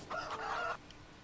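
A rooster crows once in the farming game Farming Simulator 19, a single short cock-a-doodle-doo heard alone and fairly faint against a quiet background.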